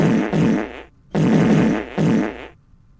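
A cartoonish fart sound effect from the video game Luna Abyss plays as three loud, sputtering blasts in quick succession, each trailing off.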